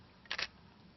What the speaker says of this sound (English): that was a real slow shutter speed, as you can hear